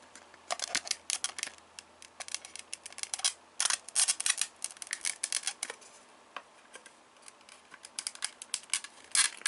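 Plastic parts of a Naruto Shippuden Kakashi figure being put together, a tree piece fitted onto its base: close, irregular clicks, snaps and scrapes in uneven bursts, with no talking.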